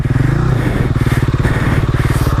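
Motorcycle engine idling and running close by, a loud rhythmic pulsing thump with a slight rev partway through, steady throughout.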